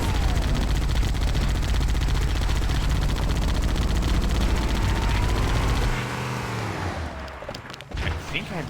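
Rapid, sustained gunfire rattles in Halo: Combat Evolved over a droning vehicle engine. The shooting cuts off partway through, leaving scattered quieter clunks and movement.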